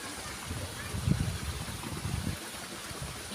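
River stream flowing beside a rural Sundanese village in Sukabumi, West Java, a steady soft rushing wash of water with low gurgles, fairly faint and continuous.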